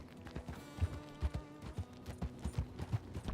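Horse hooves in a Red Dead role-play game clip-clopping at a walking pace, a steady rhythmic series of muffled thuds close by, with no talk over them.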